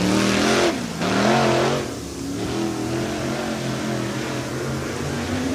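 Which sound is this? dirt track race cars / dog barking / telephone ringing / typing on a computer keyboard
dirt track race cars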